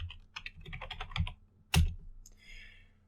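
A quick run of close, crisp keystrokes on a computer keyboard, then one heavier key strike and a soft trailing click.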